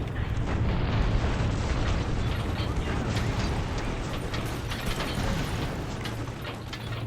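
Buildings crumble under heavy bombardment in the open-world game Mercenaries: Playground of Destruction, a dense continuous wall of explosions, collapsing rubble and booming that roars loud throughout.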